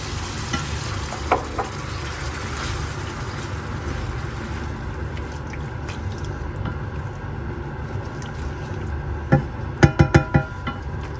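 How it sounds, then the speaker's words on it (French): Cream is added to pasta sauce in a pan with a little tomato, giving a steady low sizzle under soft stirring, then a few sharper clinks and scrapes of a utensil against the pan near the end. "on va ajouter la crème"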